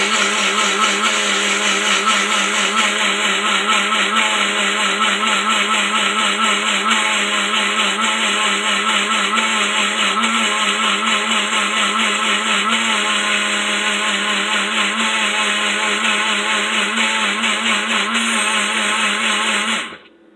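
A Chef Style personal blender runs loud and steady for about twenty seconds, a dense whirring motor drone that holds unbroken before cutting off abruptly at the end, with no talk over it.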